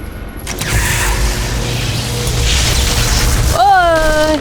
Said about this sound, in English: He exploded.